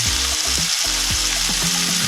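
Smash burger sizzling hard in a frying pan with cheese laid on top, a loud continuous hiss close up with no talk.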